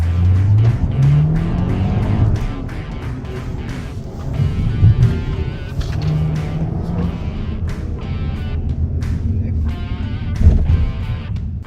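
Skoda Octavia RS, a powerful turbocharged sedan, weaving through a slalom course of obstacles, its engine revving and droning steadily with tire noise and a brief louder surge near the end, heard up close throughout.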